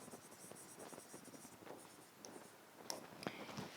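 During a lecture, a pen or marker scratches and taps across a board in faint, irregular strokes with small clicks, quiet and close with no talking.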